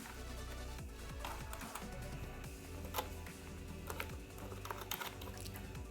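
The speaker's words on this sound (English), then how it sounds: "So I'm gonna type the observation right here." Someone types on a computer keyboard in a quiet room, a steady patter of soft key clicks with a few sharper taps, faint and close.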